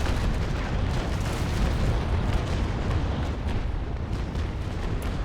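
A ship's cannon broadside booming in the naval warfare game Naval Action, a heavy sustained rumble of overlapping shots that fills the whole stretch at steady loudness with no pauses.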